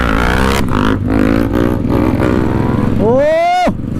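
A motorcycle in a group ride engine roars loud and close through a wheelie, droning steadily before a sharp rising-and-falling rev near the end, with people talking over it.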